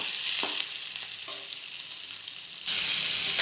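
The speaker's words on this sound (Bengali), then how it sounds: "এবার আমি মাছের তেলটা ভাজি করব।" Fish fat sizzles in hot oil with onion and green chili, a steady, close, hissing fry that jumps suddenly louder near the end as more goes into the pan.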